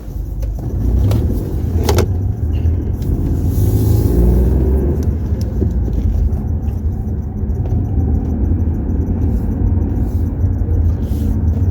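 A car drives along a road, a loud continuous low rumble of engine and tyres from inside the cabin, with a few faint clicks early on and no talk.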